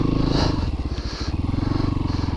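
A Christini AWD 250DS all-wheel-drive two-stroke-style dirt bike revs and pulses steadily up close, its engine firing in a fast, throbbing rhythm throughout.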